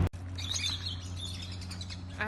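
Birds chirp and tweet at Yaaman Adventures park, a mix of small calls over a steady low hum, fairly faint and close, with no talking.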